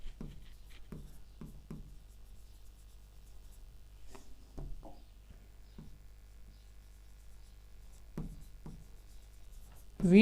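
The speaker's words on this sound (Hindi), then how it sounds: "थोड़ा सा अच्छा लिखते हैं इसको" Chalk or marker scratches across a board or page during a trigonometry lesson, coming in short, irregular strokes with quiet gaps between them.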